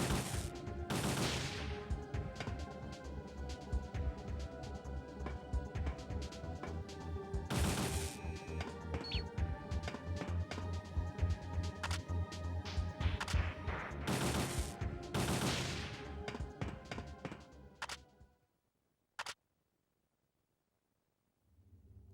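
Repeated gunfire against enemies in the PS1 game Parasite Eve 2, loud rapid shots with several heavy blasts, continuing for many seconds before stopping abruptly, followed by one last isolated crack and then silence.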